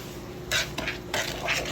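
A spoon stirring banana bread batter of mashed banana and vegetable oil in a bowl, three close scraping swishes against the bowl with short pauses between.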